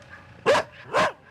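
A dog gives two sharp, close barks about half a second apart, loud and alone with no talking, like a pair of guard dogs set loose on an intruder.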